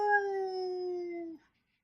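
A single drawn-out dog howl sound effect, a clear sustained tone that slides slightly downward, holds for over a second, then cuts off into silence.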